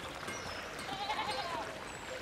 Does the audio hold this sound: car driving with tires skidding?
no